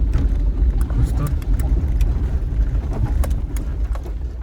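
An oncoming car on a narrow, snowy mountain road rumbles steadily nearby, its engine a continuous low drone under people talking.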